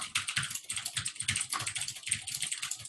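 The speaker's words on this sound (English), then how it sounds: "can you so- mute your typing?" Fast, continuous clatter of keys on a computer keyboard, close and steady, dense key strikes with no pauses or speech.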